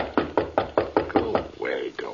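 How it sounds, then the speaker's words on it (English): Knocking on a door as a radio drama effect: six evenly spaced, firm raps, each with a short hollow decay, followed by a brief muffled rustle. "I'm just going to let him knock"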